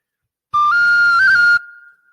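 A single bright, high Thai bamboo flute note in B-flat held for about a second, with quick finger-tapped trill wavers in pitch, then a brief fading tail.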